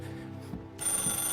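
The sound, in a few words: telephone ringing in the video game Mafia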